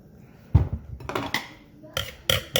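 A spatula scrapes and knocks against a mixing bowl while cheesecake filling is transferred into a pie pan, making a few sharp clinks and taps at irregular intervals between soft quiet gaps.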